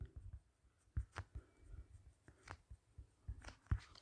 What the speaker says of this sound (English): So let me write the statement for you.